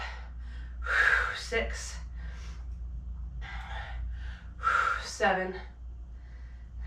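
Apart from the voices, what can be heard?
exhaling breaths during strength exercise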